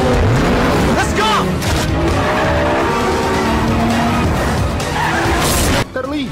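Race cars skid and squeal through a street race, with loud tire screeches sweeping up and down over roaring engines and a few booming impacts, all dense and close before a sudden brief drop near the end.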